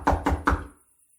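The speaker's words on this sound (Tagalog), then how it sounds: "Sino kaya yung kumakatok sa ganyang oras?" Three firm knocks on a wooden door at night come in quick, even succession, close and resonant, then fade into silence.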